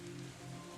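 Steady rain falls in a soft, continuous hiss, faint and even throughout with no voices over it.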